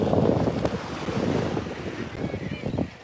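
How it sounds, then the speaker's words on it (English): Wind blowing in off the ocean at Coney Island buffets the microphone in rough, gusting rumbles, with surf-like washes underneath, steady and loud for the whole stretch with no talking. "the wind always comes off of the water here"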